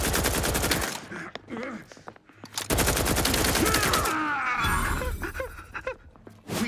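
Rapid gunfire bursts from the goop gun, a weapon in the video game The Outer Worlds 2, fire loudly in two long volleys, mixed with game voices and combat noise.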